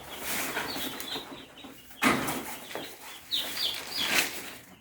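Chicks chirp in a brooder, high thin peeps from several birds close together, steady and moderately loud with a sudden rustle or flutter partway through, no voices.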